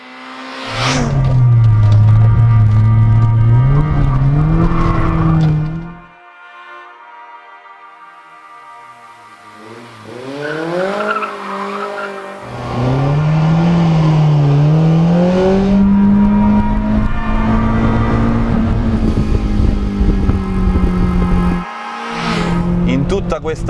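A BMW M3 E30's engine revs hard while driving, climbing and falling toward its 7,000 rpm limit. Loud sustained rasping pulls are broken by a quieter easing-off stretch midway before the engine surges again.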